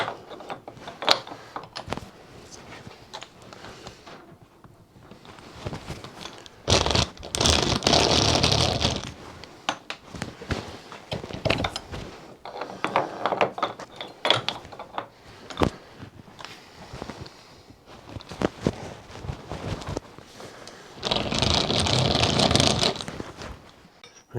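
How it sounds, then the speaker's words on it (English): A small hand drill fitted with a countersink bit is cranked to deburr metal in a workshop, giving bursts of whirring, ratcheting gear noise that start and stop several times, close and fairly loud, with no talking. "It's amazing how often I use that little hand drill."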